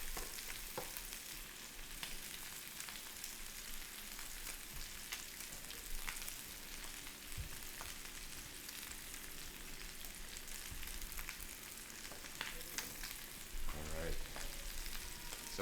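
Steaks searing in a hot pan give a steady, close, even sizzle with crackles throughout, and no talking over it.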